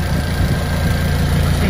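A 2005 Honda Jazz GD3 VTEC automatic, lowered and fully modified, idles close by with a steady, loud low rumble and an even hum throughout.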